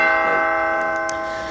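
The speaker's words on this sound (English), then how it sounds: "we guys will wait for the bell to go and check how the markets" Stock exchange opening bell rung at the start of the trading day, a sustained ringing tone with steady harmonics that fades slowly as it decays, heard alone without talk.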